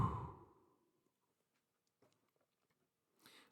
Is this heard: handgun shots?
no